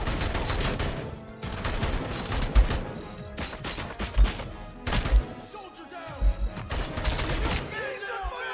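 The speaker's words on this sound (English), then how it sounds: "Assault rifle, let's get that one." Assault rifle fire in a video game comes in several rapid bursts separated by short pauses, loud and close, with occasional heavier thuds among the shots.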